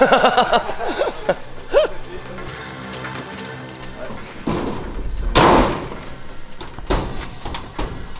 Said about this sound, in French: Elle me fait peur cette porte.